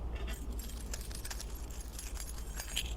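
A bunch of keys jangles continuously for a few seconds, a light metallic rattling near a sofa seat in a church congregation, fairly quiet over a low background rumble.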